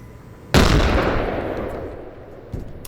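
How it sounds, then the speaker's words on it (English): A grenade goes off in the tactical game Door Kickers 2: one sudden loud blast with a long rumbling decay, then a smaller thud near the end. "Preemptively, I'm just gonna put a grenade over here just to see if it gets any reactions."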